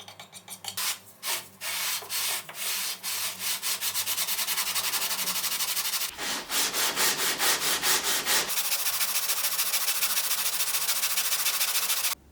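Sandpaper rasps back and forth on the gourd-bodied neck of a homemade tambura, leveling it before the fretboard is glued. The strokes come in quick, steady rhythmic runs, close and loud, with a brief pause midway.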